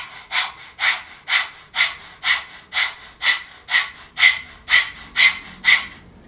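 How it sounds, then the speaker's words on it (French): Rapid rhythmic yoga breath of fire in a Kundalini session: about thirteen sharp, evenly spaced nasal exhalations, close and loud, with no talk over them. "Respiration du feu."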